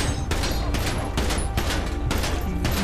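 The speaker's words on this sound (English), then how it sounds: "they let off the shots" Rapid burst of gunshots in a drive-by shooting, loud overlapping cracks fired in quick succession, several distinct volleys close together with no talking.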